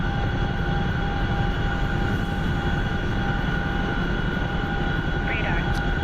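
A Chinook helicopter flies in a video game, a constant dense rotor and engine drone with steady tonal whine held at even loudness throughout, under occasional faint interface blips.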